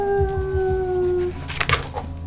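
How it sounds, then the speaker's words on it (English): Wolves howl by a roadside at night, a long sustained steady howl dominating the first half, then fading into scattered noisier yips and rustling. "hearing wolves howling in the background"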